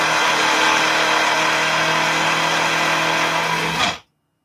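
A whining electric mixer motor whipping regular cream runs steadily and loud at close range, its drone holding an even pitch before cutting off abruptly near the end, followed by silence.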